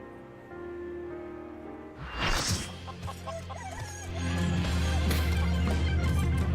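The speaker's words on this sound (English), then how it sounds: "Hear the chicken?" In the Final Fantasy XIV video game, a chicken clucks in short bursts over background game music, the clucks close and moderately loud while the music carries on underneath.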